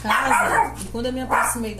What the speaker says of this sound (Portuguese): deixa eu liberar essa mocinha aqui, que ela tá latindo muito aqui.